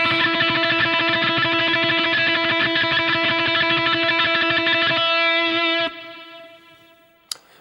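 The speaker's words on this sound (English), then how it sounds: "we just pick it as quick as we can up and down." Tremolo picking an E note on a guitar's B string: rapid, even up-and-down picked repetitions of one sustained, bright note, loud and steady, then stopping and ringing out before a brief final click.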